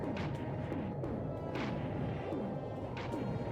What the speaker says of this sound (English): you can barely see through that explosion